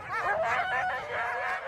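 Sled dogs on an Arctic team yip and bark in a steady, overlapping chorus of high, excited cries that carries on without a break.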